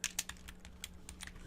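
Fingers type on a computer keyboard in a burst of irregular, fairly quiet keystrokes over a steady low electrical hum.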